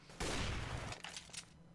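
Automatic AK rifle fire in Counter-Strike: Global Offensive, a loud continuous burst of rapid shots lasting most of a second, then a few scattered quieter shots trailing off.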